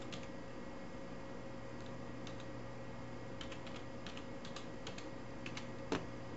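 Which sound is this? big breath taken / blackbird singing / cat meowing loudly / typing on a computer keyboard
typing on a computer keyboard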